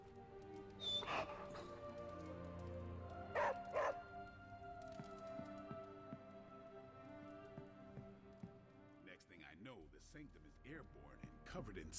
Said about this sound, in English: You can pet the dog.